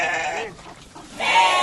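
Goat on a farm bleating loudly and close, two wavering calls separated by a short quiet gap, with no talking over them.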